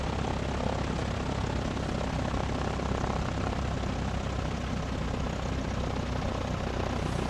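Steady droning propeller engine of a tail-dragger airplane on landing approach in the X-Plane 11 flight simulator, a loud continuous hum and roar with no change in level and no talking.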